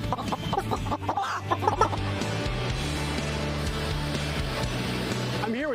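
Hens clucking inside a hen house at an egg farm in Nashville, North Carolina, a dense flock chorus of overlapping clucks and squawks, loudest in the first two seconds and then a steady hum of birds with a rising call at the end.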